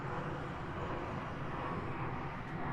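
A fixed-wing airplane passes overhead, its steady broadband engine drone holding loud and even throughout with no talk over it.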